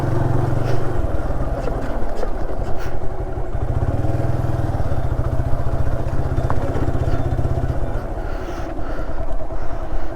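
An off-road vehicle engine drones steadily and loudly on a rough jungle track in the Kalvarayan hills, rumbling without a break and with no speech heard.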